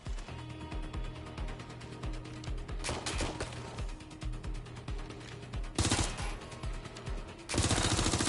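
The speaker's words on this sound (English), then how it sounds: "Shots fired." Rapid bursts of automatic gunfire in Watch Dogs Legion, dense and sustained, with louder sharper volleys near the middle and the end of the stretch.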